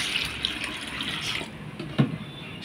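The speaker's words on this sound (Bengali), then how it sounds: "আমি আবার একটু জল দিচ্ছি যাতে আরশোলাটা পুরোপুরি ডোবে।" Water pours steadily into a bucket holding a cockroach and turmeric powder, a soft continuous trickle and splash with one small plop near the end, no talking.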